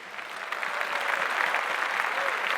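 Audience applause fills a music awards ceremony, a steady wash of many hands clapping together, sustained and fairly even throughout.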